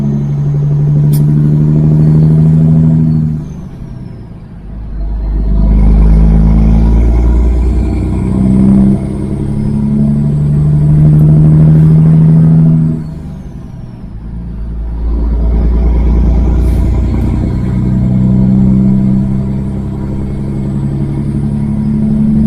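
Kenworth W900 truck engine revving up and falling back in repeated surges as gears are split and shifted, loud and close with deep rumble and no talking.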